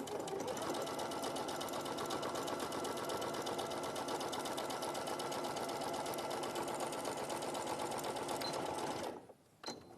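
A sewing machine stitches closed a small hole, running at a steady rapid rhythm for about nine seconds before stopping, followed by a soft clunk, with no talk.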